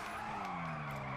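Grotti Turismo R drifting in GTA 5, tires squealing in a steady loud skid over a droning engine, brief and continuous with no talk.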